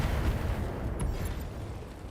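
Weapons fire in the BattleTech mech combat video game as heavy, rumbling booms and bursts, with a sharp crack near the middle over continuous low thunder.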